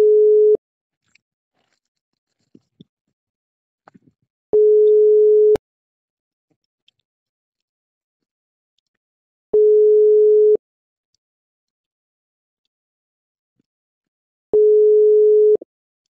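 A phone call's ringback tone plays alone: three long, steady, loud single-pitch tones, each about a second, separated by roughly four seconds of silence.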